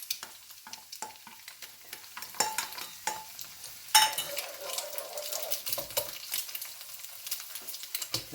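Eggs frying in a pan for fried rice as garlic paste goes in: continuous soft sizzling with stirring and scraping of a utensil against the pan, close by and without talk.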